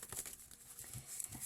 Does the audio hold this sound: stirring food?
no